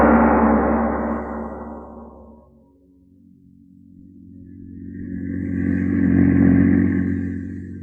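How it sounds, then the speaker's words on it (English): An old-time radio drama car, a chauffeured automobile on a country road, rumbles with a steady low engine drone that fades away and then swells back up. No one speaks. "The publisher and his chauffeur are driving along a country road."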